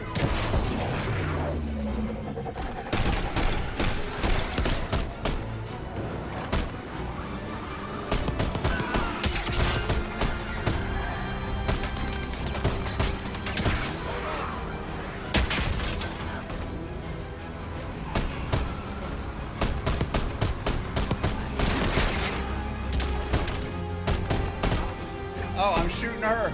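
Gunfire in the video game Call of Duty Black Ops 6, with dense bursts of shots, booms and mechanical clatter that pile up and continue through the clip, loud and busy, with game voices mixed in.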